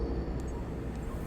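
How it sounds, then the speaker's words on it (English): Spaceship thrusters fire as a hauling rig pulls away from a space station in a sci-fi video game, a steady, dense roar of engine rumble holding level throughout with no breaks. "You close your eyes and feel the force of the thrusters firing."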